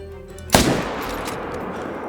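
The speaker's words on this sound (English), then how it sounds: "I'm gonna shoot him as fast as I can" A single sharp rifle shot fired at a bear in the Call of the Wild hunting game, a loud close crack at the start followed by a lingering rumbling echo that fades slowly.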